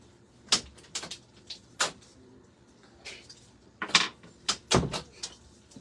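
A door and a few other household knocks sound in short, sharp bursts, spaced irregularly and fairly faint, with no voices.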